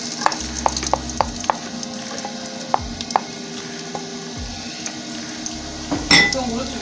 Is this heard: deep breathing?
no